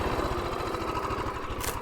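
A Rokon Trail-Breaker 2WD motorcycle engine runs hard off-road, a steady, close, throbbing low rumble that pulses evenly throughout.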